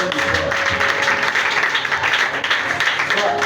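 A church congregation applauds and cheers during a charismatic prayer service, a dense steady roar of clapping with voices mixed through it throughout.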